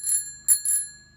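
Thumb-mounted bicycle bell on a Cafe Cruiser e-bike rung three times, crisp high metallic dings with a ringing tone that lingers, close and loud against a quiet background.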